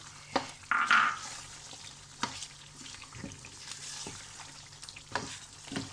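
Green chillies dropped into a chicken white karahi sizzle quietly in the pan, with soft stirring scrapes and a few sharper bursts of spitting oil coming through a low, steady fry.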